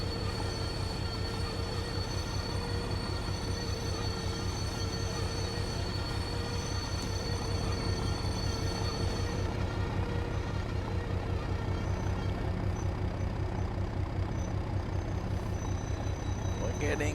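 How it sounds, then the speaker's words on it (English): A freight train in the Train Sim World video game runs with its locomotive brake applied, giving a continuous rail rumble with steady tonal brake whine and squeal. A voice talks over part of it. "we're sort of using the loco brake as sort of a service brake"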